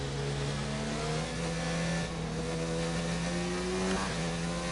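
Formula 1 race cars screaming in the F1 2019 video game, a steady high-pitched engine whine with rising and shifting revs as the cars run flat out, continuous and unbroken with no voices.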